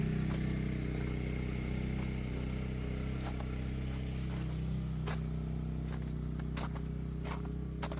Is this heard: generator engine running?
yes